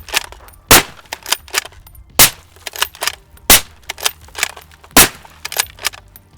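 Garand rifle fired rapidly at a range, a string of sharp, loud shots with a few standing out as the heaviest, scattered quieter cracks and clatter between them, close and irregular.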